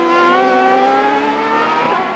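A CART Champ Car race car accelerates hard down the pit straight at Elkhart Lake, its high-pitched engine wailing loud and close as it rises steadily through the revs with no pause.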